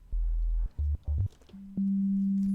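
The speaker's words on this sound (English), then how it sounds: "Right, so we have a sine wave here." A plain sine wave from the Sylenth1 synthesizer: a few short low notes at changing pitches, then a higher pure tone that holds steady to the end, clean and alone with no other sounds.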